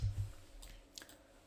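A computer mouse clicks on a web form button, with a couple of faint, quick clicks close by over a quiet room hum and no talking.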